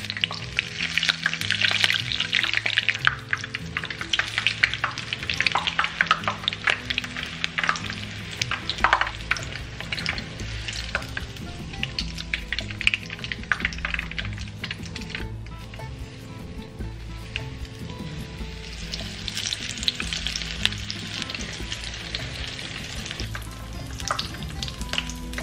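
Batter-coated poblano peppers fry in a pan, a steady close sizzle with crackling bursts and stirring that runs for the full stretch, swelling louder near the start and again toward the end.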